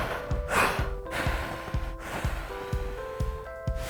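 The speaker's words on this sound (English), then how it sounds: "like blowing out candles" Someone wearing a waist trainer tries to blow out candles, giving a series of short forceful breaths and puffs, close and repeated in an uneven rhythm, with no talking.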